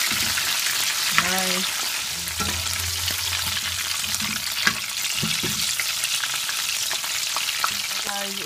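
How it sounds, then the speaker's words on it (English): Prawns sizzle and crackle steadily in very hot oil in a pot, a loud continuous fry with occasional pops and stirring clicks, and a brief spoken word partway through. "so the pot is really hot, so I'm just gonna take my prawns and just put them"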